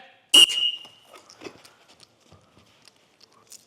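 A coach's whistle gives one sharp, loud blast during sports drills, followed by faint scattered noises and a mostly quiet gym-like space.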